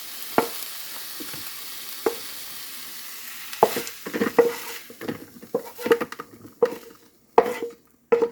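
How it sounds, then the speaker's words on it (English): Hamburger meat sizzles softly in a pan. A spatula stirs and scrapes it, giving intermittent clinks and taps over the steady frying hiss. "You can hear it, the hamburger's done."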